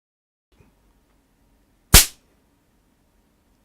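A Christmas cracker snaps as its two cardboard pieces are pulled apart, one sharp, loud bang after a faint tick and a moment of quiet.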